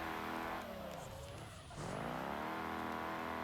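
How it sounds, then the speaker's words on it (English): Car drifting in BeamNG.drive, loud engine drone with harmonic whine that dips and climbs again as revs drop and surge, with tire squeal blended under the steady roar. "Straight out into a drift"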